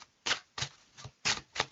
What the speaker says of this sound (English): So I'm just going to shuffle my cards now